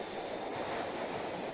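An electric train pulls into a station in a film scene, heard as a continuous broad rolling rumble and rush of wheels on rails. The sound is steady and fairly faint, with no voices.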